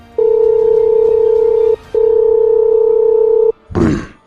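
A telephone dial tone sounds as a call is placed, a steady loud electronic hum broken by one short gap, then cutting off before a voice briefly speaks.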